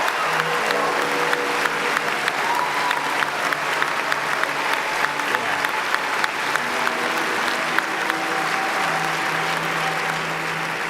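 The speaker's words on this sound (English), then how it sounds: "Yes, give yourself a round of applause" A graduating class of 2017 applauds at a commencement speech, a loud, dense wall of clapping and crowd noise that runs steadily throughout, with faint background voices mixed in.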